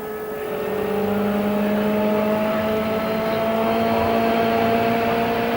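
An IndyCar-style race car from the 1995 CART race at Michigan is worked back and forth on track while checking for a deflating tire; a steady engine drone with sustained tonal harmonics holds at even loudness throughout, with no talk.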